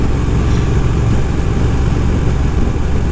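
A Triumph modern classic motorcycle engine drones steadily while riding, a constant loud mid-pitched hum with wind noise and no change in rhythm.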